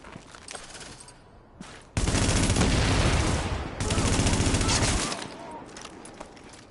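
Rapid automatic fire from an automated turret in The Division rattles out in two loud sustained bursts, each lasting over a second, separated by a short pause, with quieter game sounds around them.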